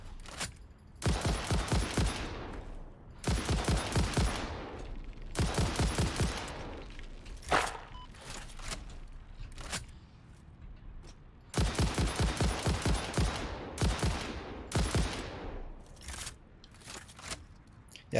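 Rapid automatic gunfire bursts in the Satisfactory video game, several dense rattling volleys of a second or two each, loud and close, separated by short quieter gaps.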